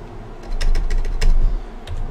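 Several quick keystrokes on a computer keyboard, close and clicky in short bursts over a low steady hum.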